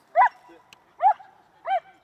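A dog at a dog park gives three short, evenly spaced barks, close and clear, each a brief bright yelp with quiet pauses between.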